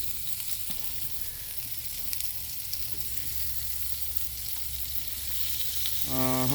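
Venison backstrap and asparagus sizzle on a cookie sheet used as a grill, giving a steady broadband crackle and fry that stays constant and close, with a faint scrape near the end and no voices.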